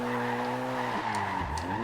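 Tires squeal and skid as a car drifts sideways in Forza Horizon 2, a sustained tonal screech with engine whine that bends and drops twice near the end, loud and close with no speech.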